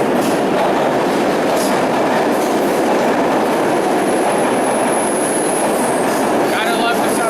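A subway train rumbles along steadily with dense rail noise and a faint high squeal of wheels near the end, loud and continuous throughout.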